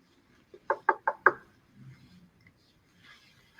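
Four sharp knocks in quick succession on the door of a rural French guest house (gîte), close and distinct, followed by faint rustling and quiet ambient noise.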